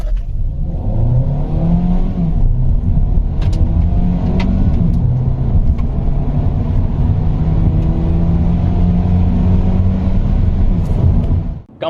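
A Hyundai Elantra Hybrid, 7th generation, accelerating hard from 0 to 100, its engine note rising in pitch through several gear steps, loud and close with a steady whir under the climb.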